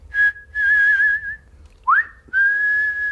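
A person whistles a few clear musical notes alone: a long held tone, a short upward swoop, then another sustained note, loud and close with brief pauses between phrases.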